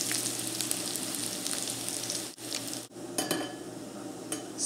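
Bacon, thyme and garlic frying in a pan, giving a steady, close sizzle with crackling spatters throughout and two brief dips where the hiss drops away.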